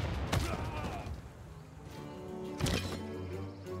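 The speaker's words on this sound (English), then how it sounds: "Let's fire using our bombards again." Bombards fire in Civilization VI, giving two heavy booming blasts a couple of seconds apart over a steady game music bed.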